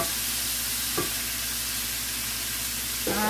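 Mushrooms and tomatoes sauté in a hot pan as pizza toppings, with a steady loud sizzle and two brief utensil scrapes from stirring, and no voices.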